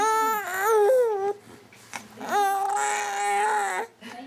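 An infant crying after a toy rattle is snatched from her hands: two long wailing, rising-and-falling cries close by, separated by a short gasping pause, with no other voices.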